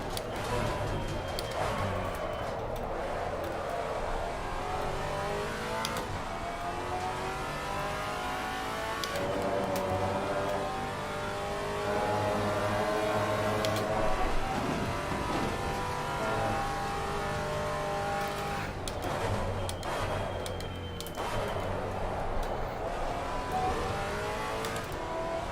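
A Maserati GT4 race car in Assetto Corsa Competizione runs a steady, loud engine drone that climbs and holds at the rev limiter, with a few gear changes through a long stretch at Kyalami.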